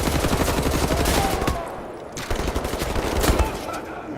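Rapid automatic gunfire from Wolfenstein: The New Order, loud dense bursts up close, pausing briefly midway before resuming in further volleys.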